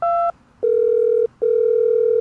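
Telephone dial tones while calling the National Housing Trust: a short two-note tone, then two longer steady single-pitch tones separated by brief silent gaps, clear and close.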